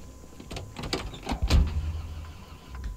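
A car engine cranks and tries to start in the zombie survival game Project Zomboid, a few rough mechanical bursts building to a louder catch around the middle, then settling, with no voices.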